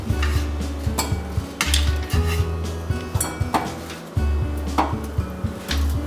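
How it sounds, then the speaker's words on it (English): Vegetables being roughly chopped into quarters on a board for Chinese-style pork bone soup, with close, sharp knife strikes in an uneven rhythm over a low background hum, no talking. "So I like to just roughly chop it into like quarters."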